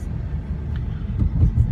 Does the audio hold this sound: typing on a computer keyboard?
no